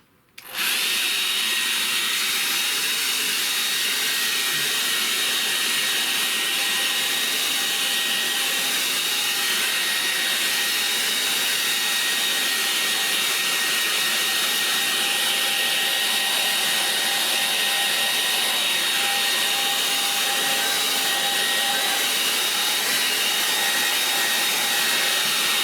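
A hair dryer blows steadily on an acrylic landscape painting to dry the paint, switching on abruptly at the start and then running as a loud, continuous whirring hiss with a faint tonal whine throughout.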